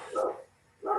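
A dog barks twice, loud and close, with a short quiet gap between the two bursts.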